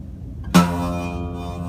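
A single buzzy, rattling guitar note on the low E string at the first fret, struck once and ringing on with a harsh, fizzy edge; close and fairly loud, no talking.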